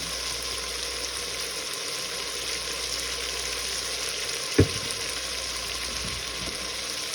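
Pork frying in freshly added cooking oil gives a steady, soft sizzle with a faint hiss throughout, broken by one brief sharp clink near the middle.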